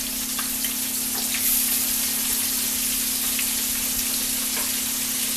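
A second batch of gluten-free chicken shallow-frying in oil, a steady crackling sizzle with scattered pops over a constant hum, moderately loud and unbroken.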